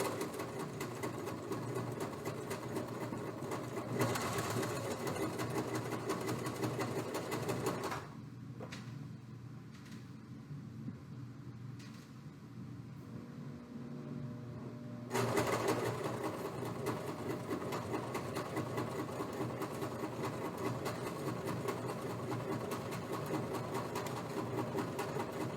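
A sewing machine stitching fabric runs with a steady, close mechanical whir, pauses for several seconds of quieter handling clicks, then starts up again and keeps going.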